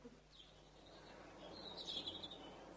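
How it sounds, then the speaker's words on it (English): A pet bird chirping on a rooftop, faint and distant: a thin high tweet early on, then a brighter run of quick chirps in the second half over quiet room tone. "Blasted bird."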